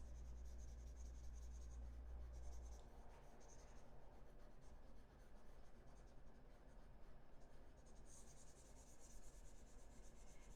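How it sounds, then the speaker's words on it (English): Faint, continuous rubbing of an eraser across a written page during math homework, soft scratchy strokes close up under a low hum. "Let's erase this."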